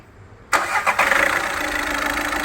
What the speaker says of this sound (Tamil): இப்போ வண்டியை ஸ்டார்ட் பண்ணி பார்க்கலாம் எப்படி இருக்குன்னு.